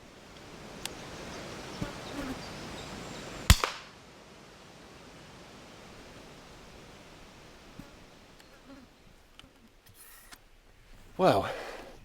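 A single sharp airgun shot cracks out at a grey squirrel on a garden feeder, short and close against quiet outdoor ambience, with faint insect buzzing and a later rustling burst.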